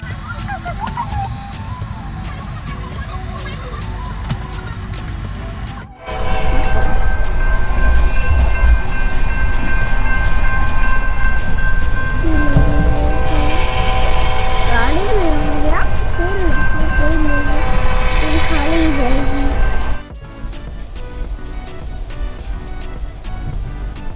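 Steady rumble and rattle of a passenger train rolling along the rails, heard from inside the carriage, loud and continuous, with people talking over it throughout.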